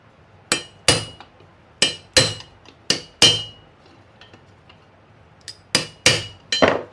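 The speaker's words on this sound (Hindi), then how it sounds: "साफ्ट ले करके इसके ऊपर हथौड़ी से मार देंगे" A hammer strikes a motor shaft to seat its bush, about ten sharp metallic blows in uneven bursts with short pauses between groups, each ringing briefly with a clinking edge, close and loud with no speech.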